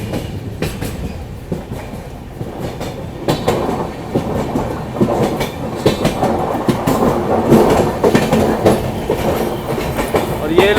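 A passenger train on the Delhi to Srinagar route pulling away after the Malwa Express passes, loud rolling wheels clattering over track joints with a steady rumble and sharp clicks, building toward the end.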